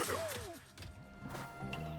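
Donkey Kong smashing through objects in the video game Donkey Kong Bananza, a run of heavy crashing and whacking impacts with sweeping game effects, loud and continuous over about two seconds.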